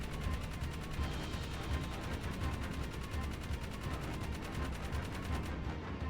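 Rapid, continuous gunfire comes from the gunner seat of a vehicle in Jak 3. The shots form a steady fast rattle at moderate loudness, unbroken for several seconds, with a brief quieter gap near the end.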